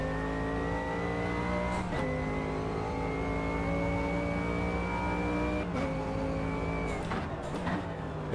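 Race car in the rFactor 2 driving game, likely a BTCC touring car, holds a steady, loud engine drone through a corner, with brief rev dips and light tyre scrubbing near the end.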